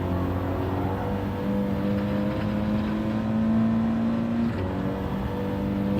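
Race car engine in a racing game droning loud and steady on medium tyres, the pitch holding, then rising slightly before a brief shift and settling again, with no speech.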